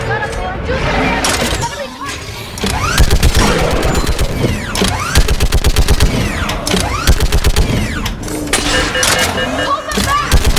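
Rapid bursts of turret machine-gun fire in the sci-fi shooter Mass Effect 3, loud and close, with sustained runs of rattling shots over battle noise and shouted voices.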